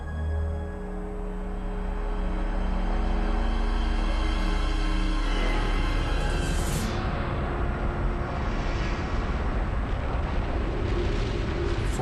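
A colossal volcanic eruption hurling lava thousands of meters into the air, heard as a loud, continuous roaring rumble that swells and stays dense and heavy throughout, with no voices.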